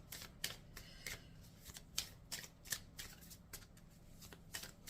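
A deck of oracle cards is shuffled with a series of crisp, papery riffles and flicks in uneven bursts, close and fairly quiet, without any speech over it.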